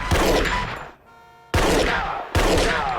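Gunfire from a tense crime-drama TV scene: loud, dense bursts of shots, a brief drop to a near-silent tonal gap, then two more abrupt loud blasts with reverberant tails.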